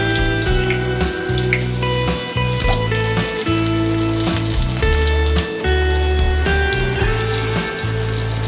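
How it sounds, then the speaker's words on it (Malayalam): Chicken samosas deep frying in hot oil give a steady, dense sizzle and crackle that runs unbroken for the whole stretch, with a constant tonal hum beneath it and no voices. "ഇതുപോലെ നമുക്ക് ബാക്കിയുള്ളത് കൂടി വറുത്ത് കോരിയിട്ട് കാണിച്ചു തരാം"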